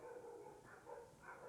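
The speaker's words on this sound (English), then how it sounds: "there's a dog barking" A dog barks faintly in the background, a few muffled, distant barks in quick succession over a low room hum, with no one talking.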